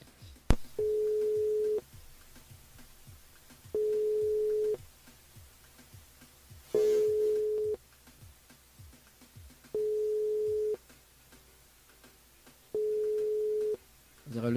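Repeated ringback tones of an unanswered phone call to a listener during a live radio show, five long evenly spaced beeps with pauses, under a faint rhythmic ticking and low background noise.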